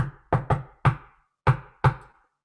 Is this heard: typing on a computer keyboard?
no